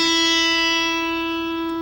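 The open high E string of an electric guitar is plucked once. The clean, bright note rings strongly, then sustains and slowly fades, and no one talks.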